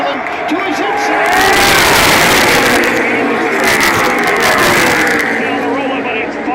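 NASCAR stock cars roar down the Daytona superstretch in a dense, loud pack, their engines swelling and sustaining as they pass, with crowd noise and a commentator talking over them.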